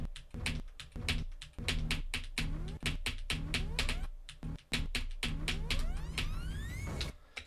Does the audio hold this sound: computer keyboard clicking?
yes